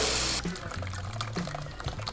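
Half hot, half lukewarm water pouring to wash a graphics card that had cola spilled on it: a loud gushing stream at first, then softer splashing and sloshing as the water settles.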